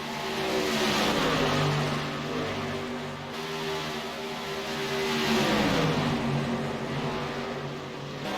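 Racing trucks roar around the track at Kansas, a loud, sustained engine drone with steady harmonic tones that swell and dip slightly in pitch as the pack runs nose to tail.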